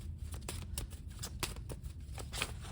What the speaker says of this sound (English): The cards just went flying.